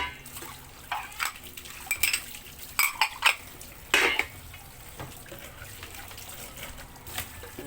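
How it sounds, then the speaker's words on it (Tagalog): Plates and cutlery left from a night of drinking being washed: repeated clattering clinks of dishes and silverware, some louder knocks, and a soft wash of running water, close by with no talk. "Hugas tayo ng plato."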